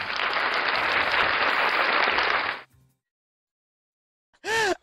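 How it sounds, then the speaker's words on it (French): Audience applause for players at a Rising Warrior tournament winner-round match, a dense steady clapping wash lasting over two seconds before cutting off sharply, followed by silence and a brief tonal electronic sweep. "On applaudit nos joueurs."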